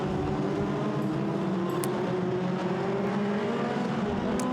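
Formula Renault Eurocup race cars at the start of a race at Monza, a dense, steady engine roar from the pack heard at a moderate distance.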